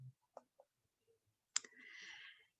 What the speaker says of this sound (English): Okay, so we'll click this.